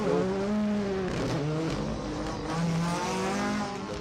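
A rally car on a stage at Harlech passes with an engine note that rises and falls through gear changes, fairly close then fading slightly, against outdoor background noise.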